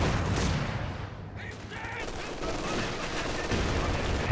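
Machine gun bursts and heavy mortar blasts rattle through a dense, noisy battlefield in the World War II strategy game Company of Heroes 2, loud and continuous, with a commentator's voice partly buried under the gunfire.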